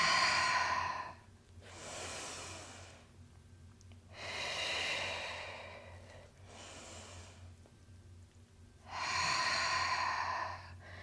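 Deep breaths are drawn in and let out during seated Pilates arm lifts on a chair, with several long airy exhales and inhales alternating slowly, close and clear.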